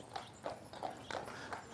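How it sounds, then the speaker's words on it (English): Horse hooves clip-clopping at a steady walking pace on Mackinac Island as a horse pulls a buggy, five or six evenly spaced knocks heard from a moderate distance over faint outdoor background. "I can hear clip clops, so there we go. Horse and buggy coming."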